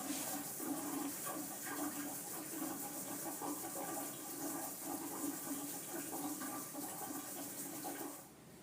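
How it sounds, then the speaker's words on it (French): Cold water runs steadily over filtered paracetamol in a lab rinse, a continuous close splashing rush that drops away at the very end. "Une fois le paracétamol filtré, il faut le rincer avec de l'eau froide."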